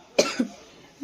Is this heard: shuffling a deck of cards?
no